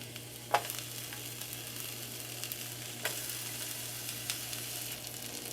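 Bell pepper rings sizzle steadily in a frying pan for a Mexican breakfast, a faint continuous crackle with a few sharper pops and spatters, no voices present.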